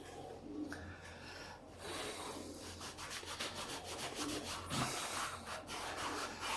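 Cutting compound rubbed by hand over fresh car paint during polishing, making a steady, close scrubbing and swishing with continuous back-and-forth strokes and no talking.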